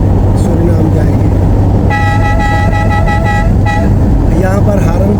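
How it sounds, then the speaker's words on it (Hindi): Car horns honk on a busy road in Guyana, a steady harmonic toot sounding for about two seconds, then a shorter blast, over constant loud traffic rumble. "यहाँ पर हारन बजाना आम है, इसके लिए कोई प्रॉब्लम नहीं है।"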